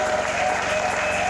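A church congregation applauds and cheers during a worship service, with dense, steady clapping filling the whole stretch at full loudness.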